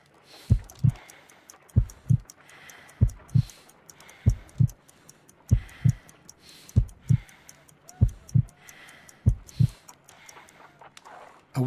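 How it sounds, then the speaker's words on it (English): A slow, steady heartbeat in Sherlock Holmes: Crimes & Punishments, weak and around 50 beats per minute: paired low thumps repeating about once a second, clear and close, over quiet ambience with no talk. "I need to concentrate and count the heartbeats."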